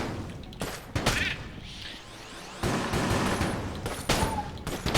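Rapid bursts of gunfire and booming explosions from a gun in the video game Enter the Gungeon, loud and close, arriving in uneven clusters of shots with a sharp blast near the end.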